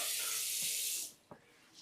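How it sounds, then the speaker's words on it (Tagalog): Strong water flow from a bathroom shower tap in a guesthouse washroom with a water heater, a loud steady gush that cuts off abruptly partway through, followed by faint clunks. "O, lakasin ng tubig, oh."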